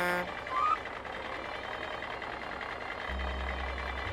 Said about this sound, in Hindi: ड्राइवर गाड़ी लेकर वहां से निकला।